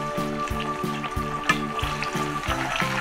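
Homemade tuna-style fish simmering slowly in oil over low heat, a gentle continuous sizzle and bubbling with small pops, close and steady, with no talking.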